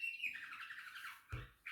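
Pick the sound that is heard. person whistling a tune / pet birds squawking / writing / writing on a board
pet birds squawking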